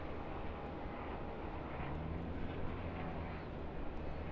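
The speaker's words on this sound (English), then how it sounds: "Looks like our QANTAS departure to New York via Auckland." A Qantas airliner departing Sydney Airport, a steady broad jet-engine roar holding at moderate distance throughout with no voices.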